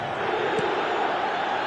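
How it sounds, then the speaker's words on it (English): Steady, dense stadium crowd roar from an eFootball 2025 match, a continuous loud wash of massed voices with a brief swell near the middle, heard alone without commentary. "The crowd are calling for this to be put to bed."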